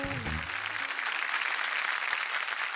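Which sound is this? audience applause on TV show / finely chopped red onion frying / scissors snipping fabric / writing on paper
audience applause on TV show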